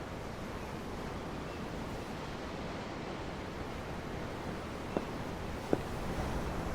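Ocean waves in the video game Tales of Arise, a steady broad wash of surf noise with no distinct breaks, plus two faint clicks near the end and no talking.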